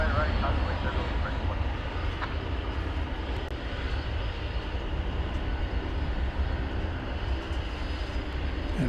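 Steady broadband roar of an airliner approaching to land at DFW Airport, a continuous loud engine rumble holding level throughout with a voice talking over it.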